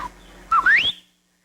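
A voice whistles an imitation of his father's signature attention whistle: a brief, fast upward-sliding whistle, close and clear, then silence.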